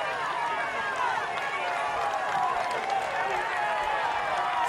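A dense roadside crowd on the Col du Tourmalet during the Tour de France cheers and shouts continuously, a loud unbroken wall of voices with a commentator's voice over it.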